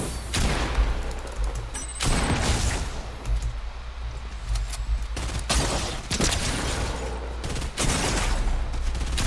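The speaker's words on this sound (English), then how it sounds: "Why are none of my bullets hitting?" Bursts of rapid gunfire from weapons in the Fortnite OG video game, several loud sharp volleys separated by brief gaps, punchy and close with booming low end.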